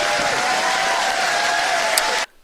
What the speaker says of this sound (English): The people are cheering, right?